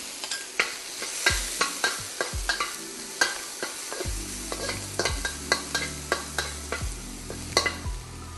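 Pork intestine stir-fried in a wok with Chinese peppercorn, ginger and garlic, with loud sizzling and repeated scraping strokes of a spatula against the pan, close up and without talk.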